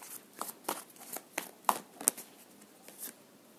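Tarot cards shuffled and drawn from a deck, a series of close, crisp rustling flicks and soft slaps in an irregular rhythm, quiet apart from the card sounds.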